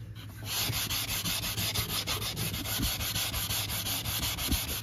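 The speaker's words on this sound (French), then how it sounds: "je vais pas le poncer jusqu'à l'aluminium de partout" An aluminium piece is sanded by hand with quick back-and-forth strokes, giving a continuous raspy rubbing sound that is close and steady and carries on without talk.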